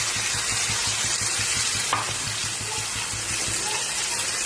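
Spices and ground masala frying in oil for mushroom masala, a steady dense sizzle with stirring scrapes throughout, close and loud, with no talking.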